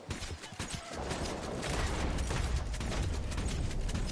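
Sustained loud gunfire from Red Dead Online, a dense burst of rapid shots and clatter that builds after the first second and holds steady to the end.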